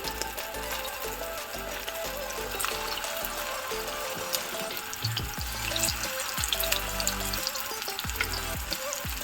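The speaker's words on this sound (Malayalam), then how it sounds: "അങ്ങനെ നമുക്ക് ഓരോന്നായിട്ട് വറുത്തെടുക്കാം" Fish cutlets fry in hot oil in a home kitchen, giving a steady dense sizzle throughout with occasional soft knocks and stirring sounds, close and continuous, with no talking.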